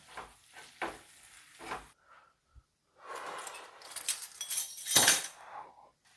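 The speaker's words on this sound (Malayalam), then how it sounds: "പ്രോൺസ് ആഡ് ചെയ്ത് ഒന്ന് സോട്ട് ചെയ്യുക" Prawns sautéing in butter and garlic in a pan, giving bursts of sizzling and frying with stirring clinks, the loudest surge near the end after quieter scraping moments.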